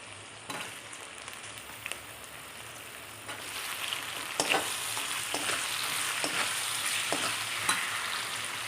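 Green chillies and capsicum stir-fry in a pan for vermicelli upma, a steady crackling sizzle that grows busier partway through, broken by intermittent scraping clicks of stirring and with no voices heard.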